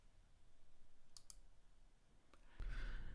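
A few sharp computer mouse clicks, two close together and one later, sound faintly while someone navigates a help page, followed by a louder burst of broadband noise.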